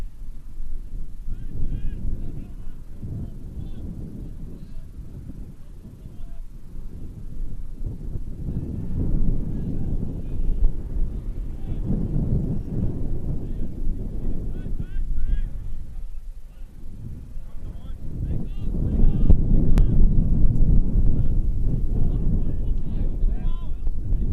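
Strong wind buffets the microphone at an outdoor men's college soccer championship match, surging in heavy rumbling waves that swell louder near the end, with commentators talking over it.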